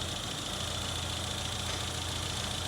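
A Janspeed-tuned Mini engine idles steadily after warm-up running, a constant, even mechanical drone with no change in speed throughout.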